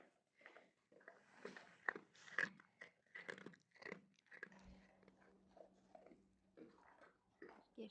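Stray dogs eat food outdoors in the cold, with close, irregular crunching and chewing bites in short bursts and a quiet pause midway.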